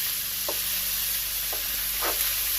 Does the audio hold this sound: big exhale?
no